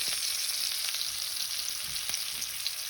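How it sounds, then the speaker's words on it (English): Oxtails browning in a frying pan give off a steady, close sizzle and crackle that holds evenly throughout, with a few small pops and spatters along the way. "this is the last of the ones that's browning"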